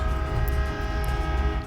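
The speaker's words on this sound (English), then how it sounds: "I don't know if you guys can hear the train in the background." A passing train rumbles steadily in the background, a continuous low roar with a sustained horn tone layered over it, constant in level throughout.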